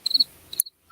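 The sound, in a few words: chirping crickets sound effect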